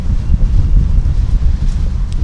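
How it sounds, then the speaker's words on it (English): A strong wind gust buffets the microphone at a surf contest, a loud, continuous low rumble with choppy surges throughout and no voices. "Whoa, big wind gust."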